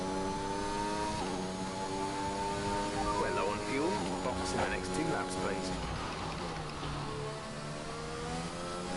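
Formula 1 car engine in the F1 2021 video game at Jeddah, revving up as it accelerates out of a fourth-gear turn, with a rising engine whine and someone talking over it.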